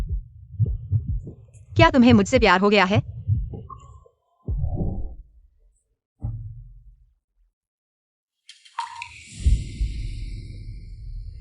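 A fast heartbeat sound effect throbs as low, rapid pulses in several bursts, loud and close, with a voice speaking between them and a brief whooshing swell near the end.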